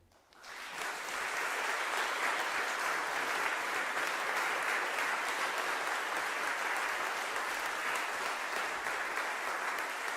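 Sustained audience applause welcoming Senator Gary Hart to a talk, rising quickly from quiet into a dense, even clapping that holds steady throughout.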